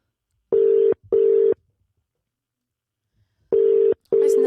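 Telephone call left ringing unanswered: a double-pulse ringback tone sounds as two paired buzzes separated by a pause, clear and steady, with no voices.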